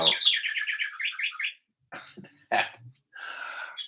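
A clock chime mimicking a robin's call sounds close and clear: a quick run of bright, rapid chirps, then a pause, a few sharp separate notes and a longer buzzy warble.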